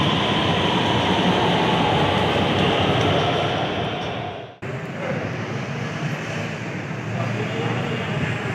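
An Orange Line metro train rumbles loudly beside a Lahore station platform, a steady heavy roar that dips sharply for a moment before resuming at full strength.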